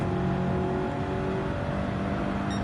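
A race car revs hard in Gran Turismo 7 during a hot lap, a steady, loud engine drone holding high revs throughout with no break, alone and close.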